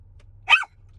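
A small Yorkie terrier lets out a single sharp, close bark, with a faint second yap starting right at the end over a low background hum.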